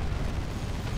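A sustained, roaring energy blast from a beam weapon in the game Dawn of War 2, dense and continuous with heavy low rumble throughout, loud and close with no pauses.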